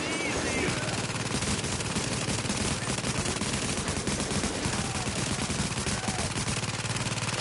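Rapid automatic gunfire from a PS4 shooter game played during a police shootout, a dense, continuous rattle of shots filling the whole stretch at steady loudness, with a player's voice faintly underneath.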